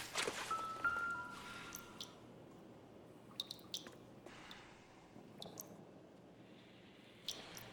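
Water dripping in L.A. Noire: faint, irregular drips and small wet taps scattered over a quiet, steady room tone.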